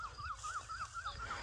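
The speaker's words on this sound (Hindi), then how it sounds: "कोयल भी हमारी बोल रही है" An Asian koel calling in the village fields of Pakistan, a faint, distant repeated whistling note at a steady pace, no voices heard.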